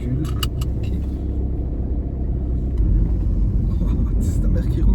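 A car reversing, its engine rumbling steadily and close with faint jingling on top, while people talk inside the vehicle.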